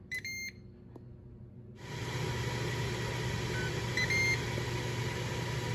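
A Ninja Foodi Grill gives a few short beeps as it starts preheating. Its fan and heating hum then rise to a steady, moderate whir, with a faint tone partway through.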